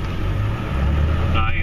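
Rumbling low engine drone from a Powerstroke diesel truck fitted with a snow plow, backing up on a snowy lot near a hill, steady and close throughout, with a voice talking over it.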